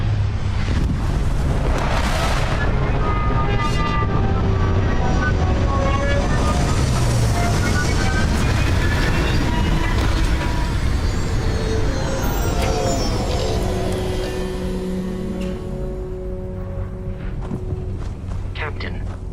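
A spaceship touches down in Starfield, a loud continuous engine roar with rumbling thrust and rising, falling whines that settles toward the end, with talk layered over it.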